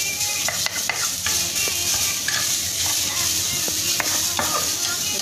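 Chicken pieces frying in a little oil in a hot wok, with a steady broadband sizzle and occasional sharp pops and crackles, close and continuous with no talk.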